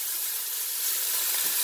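Fish with skin on sizzling in a hot pan, a steady, loud, hissing fry that runs unbroken throughout, with no talk.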